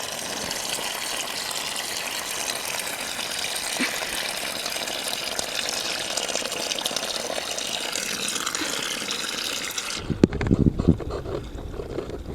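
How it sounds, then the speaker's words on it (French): Water gushes steadily from a hose into a garden pond, a continuous loud rushing that stops abruptly near the end, followed by a few faint splashes and knocks. "je remplis mon bassin."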